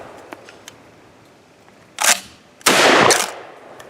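Two loud, sharp blasts from a Benelli Supernova LE pump shotgun loaded with Aguila mini shells, the first short and the second a longer booming burst, each standing out against quiet outdoor background with faint clicks before.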